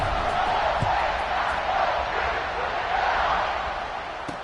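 Video game college football stadium crowd at Ohio State vs Buffalo during a kickoff: a loud, continuous roar of many voices cheering, holding steady and easing slightly at the end, with a faint voice underneath.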